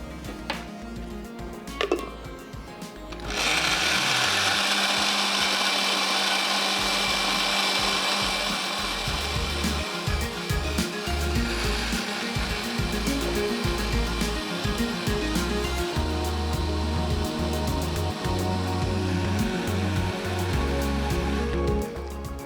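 An electric grinder whirs loudly and steadily for about twenty seconds as onion is blended into paste, starting after a few seconds of clatter and switching on abruptly, with a constant high-pitched motor whine.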